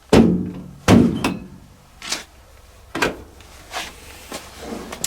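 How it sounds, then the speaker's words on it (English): Door of a Hotpoint Ultima TDC62G 6kg sensor condenser dryer pushed shut: a firm close thunk followed by a second, then several lighter knocks and clicks spaced about a second apart, close by. "to load up, we press the door"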